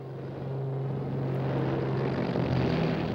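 Engines of a World War II Me-323 Gigant, the largest load-carrying transport aircraft of the war, drone steadily and loudly with a constant low tonal hum under broadband roar, holding near-even throughout.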